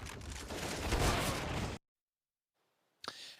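Bursts of gunfire in Counter-Strike on the Inferno map, with a dense, loud stretch of rapid shots, then a sudden cut to silence and a single sharp shot near the end.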